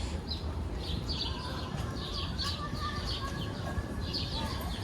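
Pigeons at a bird feeder in New York City, with repeated soft chirps and coos over a steady, loud urban hum of outdoor background noise.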